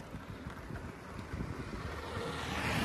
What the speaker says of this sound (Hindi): हल्की हवा चल रही है, परेशान ना करने वाली